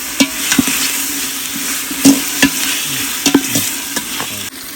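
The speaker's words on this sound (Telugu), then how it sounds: "కొంచెం అల్లం వెల్లుల్లి పేస్ట్ కూడా వేసుకొని బాగా వేయించుకున్నాము" Tomato and ginger garlic paste fry in hot oil for chicken biryani with a steady, loud sizzle. A spoon scrapes and knocks against the pan at irregular intervals as the mixture is stirred up close.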